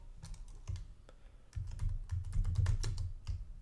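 A slide title is typed on a computer keyboard, with close, crisp keystrokes falling in irregular clusters and short pauses between bursts.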